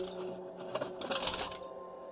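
A can of screws handled in the video game LA Noire, giving a short burst of dense metallic rattling and clinking, moderately close, with no talk.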